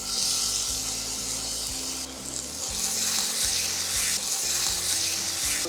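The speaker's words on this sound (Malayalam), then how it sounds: "ഇതിലോട്ട് കുറച്ച് ഒലിവ് ഓയിൽ ആഡ് ചെയ്യാം. ഇതിലോട്ട് നമ്മൾ കട്ട് ചെയ്ത് വെച്ച ചിക്കൻ ആഡ് ചെയ്യാം." Cut chicken sizzles loudly in olive oil in a hot pan, a dense, continuous frying crackle heard close up with occasional stirring.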